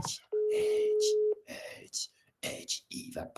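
A single long, steady telephone ringing tone sounds while a call goes unanswered, followed by people talking over faint background noise.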